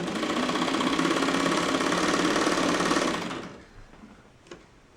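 A wooden Moy and Bastie hand-cranked film camera with a chain-driven mechanism whirs steadily and loudly at close range, then stops abruptly partway through, leaving faint handling clicks.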